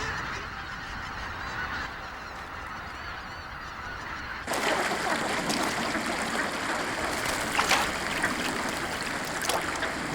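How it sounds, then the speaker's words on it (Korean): Geese and ducks settle onto a flooded rice paddy, a steady chorus of goose honking and calling over a watery background that grows noticeably louder and busier partway through, with no voices. "기러기와 오리들이 물된 논에 앉는다"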